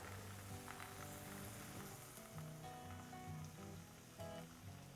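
Crêpe batter sizzles in a hot pan as a steady, faint, rain-like hiss throughout, with no voices heard.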